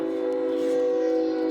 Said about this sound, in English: And there goes the train.